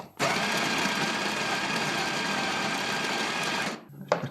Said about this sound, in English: I'll grind a bit first to get rid of the retention, the retained grinds from the last one.